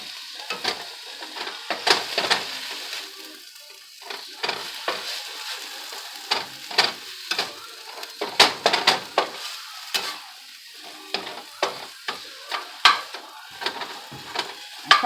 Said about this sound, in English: We don't want to fry them, we just want to saute.